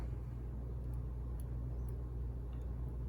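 A small electric motor turns the gears of an HO scale steam engine kit with loosely set gear mesh, giving a steady low hum and rumble close by, continuous and even throughout with a few faint high ticks.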